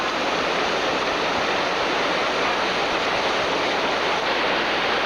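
Loud, steady roar of river rapids rushing over a ledge during a 1993 rafting trip in North Carolina, broadband whitewater noise filling the scene continuously without a break.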